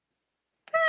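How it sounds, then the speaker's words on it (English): A single cat meow rises suddenly out of silence near the end, clear and fairly close, as a staged sound in an old-time radio drama of The Black Cat. "It's the cat."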